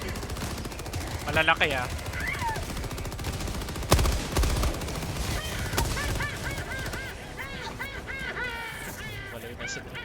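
Rapid bursts of automatic gunfire ring out from enemies shooting in a Helldivers-style video game against automatons, with loud cracks and clattering volleys layered under game effects while a player speaks briefly.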